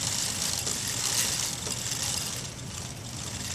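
A rag wiping cleaner off a recumbent bike chain makes a steady, close scrubbing hiss that runs unbroken, fairly loud and even, with no voices.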